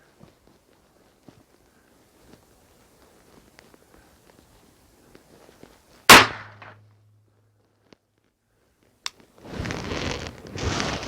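Rifle firing Lehigh Extreme bullets, one sharp loud shot with a short ringing tail after quiet ambient ticks, then a faint click and a burst of broadband noise near the end.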